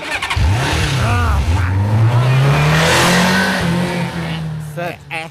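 A car engine revs and climbs in pitch as the vehicle pulls away, loud and close, with people talking over it before it fades at the end.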